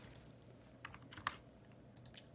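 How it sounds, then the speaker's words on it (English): Computer keyboard typing at a gaming desk, soft uneven key clicks with a couple of sharper taps, fairly quiet and close, no voices. "Sorry, I'm just typing this in."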